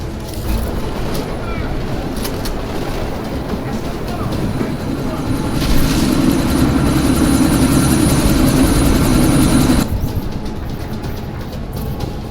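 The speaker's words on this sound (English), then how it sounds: "That chopper's about to take off." Helicopter engine and rotor noise from the video game Deus Ex: Mankind Divided, a steady loud rumbling drone as the chopper prepares to take off, swelling midway before cutting off near the end, with talk over it.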